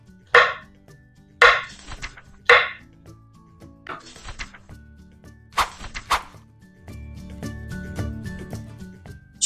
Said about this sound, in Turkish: Öncelikle mantarlarımı güzelce soydum ve dilimliyorum.